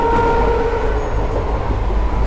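Somnath Intercity Express, an Indian passenger train, rumbles steadily along the rails between Ahmedabad and Somnath, with a loud, continuous low roar and wheel clatter heard from inside a general class coach.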